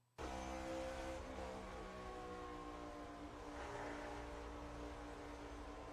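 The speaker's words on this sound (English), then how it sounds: "So you can see he clearly runs out of gas, slows up immensely." A NASCAR race car running out of fuel at the Brickyard: a loud, continuous engine roar starts abruptly with strong harmonic tones, then holds steady with a slight easing as the car slows.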